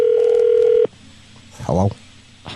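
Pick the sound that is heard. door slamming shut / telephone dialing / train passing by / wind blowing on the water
telephone dialing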